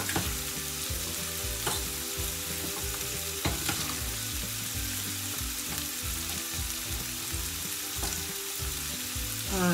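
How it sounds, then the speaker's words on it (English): Steady sizzling and crackling of onions frying in a pan until golden brown for country captain chicken, with occasional stirring scrapes, continuous and close throughout. "So just keep frying till your onions become golden brown."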